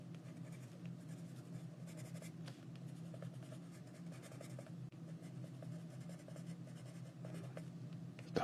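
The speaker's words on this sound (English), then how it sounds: "I'm just gonna use my green pencil to color this in with just a hint of color" A green colored pencil scratches steadily across paper with soft, continuous strokes, quiet and close with a faint background hum.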